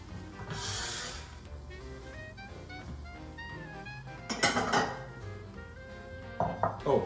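Dishes and cutlery clinking as a Cajun seafood bake with sausages is plated, soft scattered clinks and scrapes with a sharper cluster of knocks midway and near the end, fairly quiet and close.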